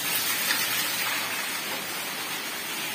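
Heavy rain pours down in a steady, dense hiss with no breaks, close and loud throughout, with no voices or other distinct sounds over it.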